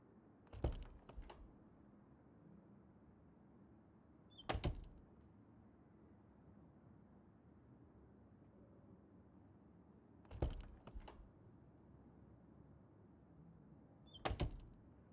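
Four sharp door handle rattles and thunks, widely spaced, as doors are tried one after another along a dormitory hallway in Life is Strange, each a brief loud clatter over a quiet low background.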